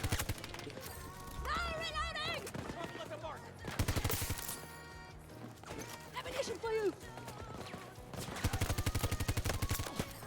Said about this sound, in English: What the hell is shooting me? What gun is that? Oh, it's probably an LMG.